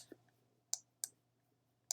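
Computer mouse clicking while writing on screen: four sharp, close clicks spaced irregularly over two seconds, quiet, with a low hum beneath and no talk.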